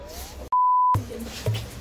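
A single steady electronic timer beep lasting under half a second goes off during a spicy ramen eating contest, loud and clean, with faint room noise before and after.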